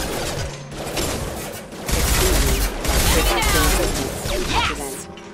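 Gunfire rattles against hostile mechs in Mass Effect 2, a dense, continuous barrage of rapid shots and impacts that grows louder midway, with a voice speaking over it.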